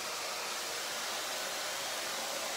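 A hair dryer blows a constant, even whoosh of airflow while drying curly hair, continuous and fairly soft at close range.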